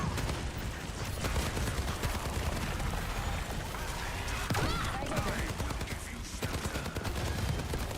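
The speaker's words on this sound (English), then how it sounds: "So here, like you're shooting." Dense, continuous gunfire from a shooter video game, with rapid automatic bursts and sharp shots layered into a loud, unbroken barrage lasting the whole stretch.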